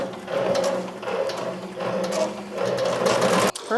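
A chenille patch embroidery machine runs steadily and loudly up close, a continuous whirring, rattling mechanical drone with rhythmic pulsing, cutting off abruptly near the end.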